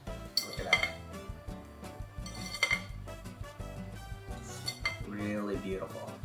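Zucchini bread batter is mixed by hand in a bowl, with irregular clinks and taps of a utensil against the sides and soft scraping between them, all up close.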